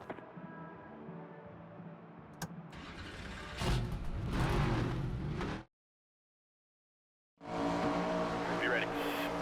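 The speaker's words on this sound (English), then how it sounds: "We'll crank it up now. Time to go." Race car engines crank up at the start of an ARCA Series race at Phoenix in the NASCAR 25 video game, swelling to a loud roar that cuts out abruptly, then returns after a few seconds of silence.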